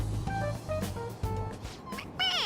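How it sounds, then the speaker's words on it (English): A stuffed toy cat in Persona 5 Royal gives a short series of small, faint mewing chirps when pressed on its head, played alone without talk over it. "It meows when you press on its head."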